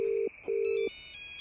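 Telephone ringing in a village-themed video game, two steady electronic ring tones in quick succession over a faint constant high tone, no voices.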